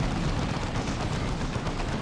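Basilisk Flare artillery fire in the video game Dawn of War 2: Retribution, a steady, loud wash of rumbling blasts and crackling impacts filling the whole stretch without clear breaks.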